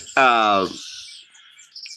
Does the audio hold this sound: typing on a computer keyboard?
no